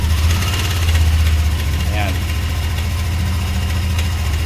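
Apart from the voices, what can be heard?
Yamaha Nmax V2 scooter engine started and idling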